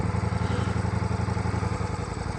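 A 2023 Ducati Diavel V4 motorcycle engine while riding, a close, loud, steady pulsing throb with rhythmic low-end beats and wind noise, no talking.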